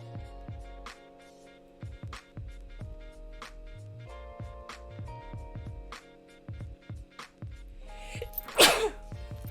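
A single sharp sneeze bursts out near the end, loud and close, over a steady backdrop of plucked and struck musical notes repeating in a regular rhythm.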